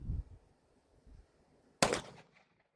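A single sharp gunshot from a Tisas 10mm pistol cracks out loud and close at an outdoor range, following a few soft low thumps, then decays quickly into quiet.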